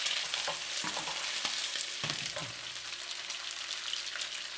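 Pork riblets brown in a hot, oily pan with a continuous sizzle and crackle, punctuated by a few sharper spatters and stirring clicks, moderately quiet and without talk.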